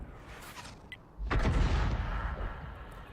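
A 105 mm leFH18B2 howitzer fires in a tank video game, one loud deep boom about a second in that rolls on in a long heavy rumble, with a few faint clicks before it.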